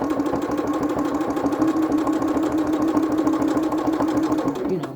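A home sewing machine strains to stitch through thick, bulky quilt layers, its motor giving a steady, loud mechanical chatter and rapid needle rhythm that runs unbroken, slowing and winding down at the very end.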